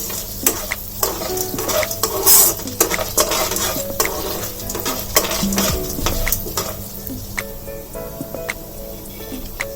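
Popcorn kernels fry in a pan over a medium flame with a steady, loud sizzle, broken by repeated scraping and stirring clatter of a utensil against the metal pan.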